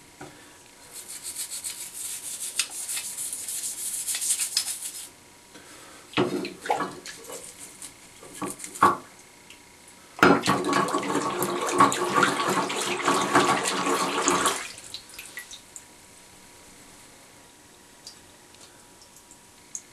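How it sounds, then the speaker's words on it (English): Scrubbing metal parts of a Lee Pro 1000 progressive reloading press clean with water, close wet rubbing and brushing strokes in two long bursts with scattered knocks and splashes between, then quiet. "You want to scrub it really, really well. You want this thing to be clean."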